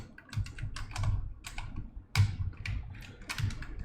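Keys clatter on a computer keyboard as the WASD keys are pressed to steer a character in a mini-game, with irregular bursts of close, crisp taps and no talking.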